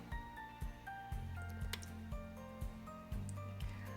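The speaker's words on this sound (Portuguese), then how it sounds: "E aí vai o óleo e o ovo." Oil and an egg added into hot dog bun dough in a bowl, with soft wet squishy pours and a few small drips and taps under a faint background tone.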